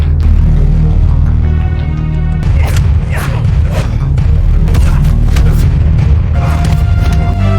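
Explosions and gunfire in an action film's final shootout: deep booms and sharp cracks pile up over a loud, continuous rumble, with dense bursts through the middle and end.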